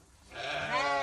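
A sheep bleats in a pen where ewes and lambs are being vaccinated, one loud, close, wavering call that swells over about a second.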